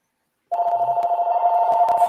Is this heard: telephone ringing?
yes